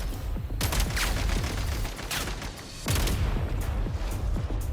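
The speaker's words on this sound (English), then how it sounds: "We are under heavy fire." Dense bursts of gunfire from a Genshin Impact battle crack out in rapid volleys and overlapping shots, loud and close, broken by a brief lull before the firing builds again.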